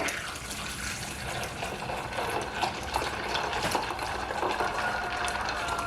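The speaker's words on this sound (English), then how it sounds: "And so let's pour this in the ice." Liquid for homemade kombucha poured over ice, a continuous splashing, gurgling flow with faint crackle of ice, steady and close throughout without talk.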